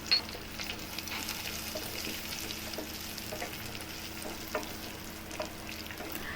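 Green and black raisins frying in hot oil or ghee in a pan for vermicelli kheer, giving a steady soft sizzle with light crackles and occasional stirring clicks, close and fairly quiet.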